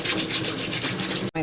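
A brush scrubs potatoes with quick rhythmic bristly strokes under running water, loud and close, ending with a brief pause and a last scrub.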